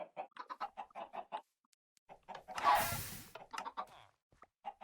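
Chickens in a Minecraft chicken farm cluck in quick bursts of short notes, with a louder rustling flurry in the middle, close and clear, no talk.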